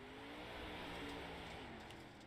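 Race car heading out onto the I-55 Speedway oval at a Coast2Coast Racing League event, a steady loud engine drone with broadband roar, no talk.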